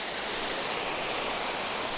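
The waterfall at Potter's Falls roars as a steady, broadband rushing wash of falling water, loud and continuous with no voices or breaks.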